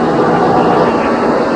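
Passenger jet in flight during a test with wing-tip equipment fitted, heard as a steady, loud broadband roar of the aircraft with no break.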